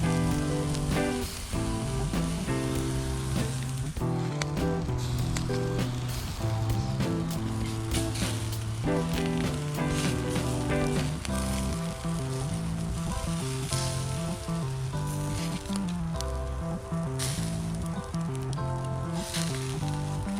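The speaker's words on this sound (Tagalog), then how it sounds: "So ngayon, i-grill na natin sila." Chicken pieces sizzling on a barbecue grill, a dense, continuous crackling hiss that stays loud and steady throughout, with irregular pops layered over a constant low background hum.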